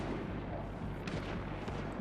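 Rapid, continuous gunfire from a Max Payne 3 shootout, a dense rumbling barrage with repeated low thuds over steady loud noise and no pauses.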